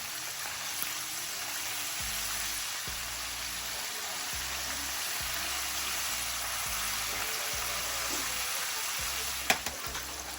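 Catfish frying in hot oil at a Friday night fish fry, a steady broadband sizzle that holds close and even throughout, with a brief sharper pop near the end and no talk.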